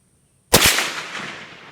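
A single sharp gunshot from a Rossi RS22M rifle fitted with an MS-32 PRO night vision holographic scope, fired outdoors at a target, loud crack after a brief silence with a fading tail.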